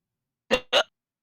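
Two quick hiccups in close succession, sharp and near, isolated in an otherwise silent moment.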